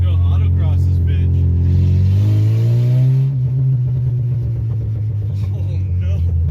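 A car engine revs hard during an autocross run, its pitch climbing steadily then holding as a loud, close mid-range drone with rumble beneath, continuing throughout.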